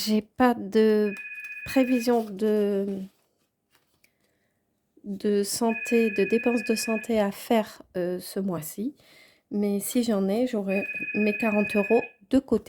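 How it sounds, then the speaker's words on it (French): A telephone rings in a room in two repeated trilling bursts under someone speaking French close by, with a third ring later during her speech. "Désolée pour le téléphone qui sonne."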